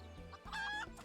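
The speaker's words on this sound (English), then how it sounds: "Cluck, cluck, cluck." A chicken in Final Fantasy XIV clucks in a short run of close, clear calls, with one drawn-out squawk in the middle, heard alone against quiet game ambience.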